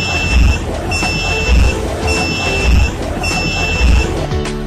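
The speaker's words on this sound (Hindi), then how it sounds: "तस्वीरों में ये छात्र दिखा रहा है कि जूता सामने रुकावट आने पर कैसे सिग्नल दे रहा है।" A student-built smart shoe for blind users, shown at a college exhibition in Muradnagar, gives off a repeating electronic buzzer beep about once a second when it senses an obstacle, over a steady low rumble.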